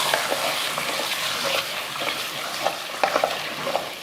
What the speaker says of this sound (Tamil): நல்லா ஒரு 5 நிமிஷத்துக்கிட்ட இந்த மட்டனை நல்லா வதக்கி விட்ருவோம்